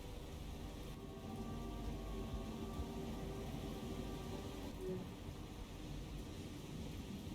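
A storm at sea in a naval warfare video game, with steady heavy rain hissing and a low rolling rumble of thunder underneath, continuous and fairly loud.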